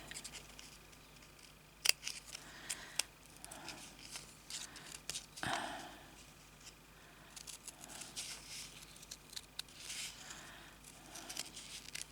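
Scissors snipping fabric for an embroidery and beading piece, a quiet close series of irregular cuts and slicing strokes with small handling rustles between them.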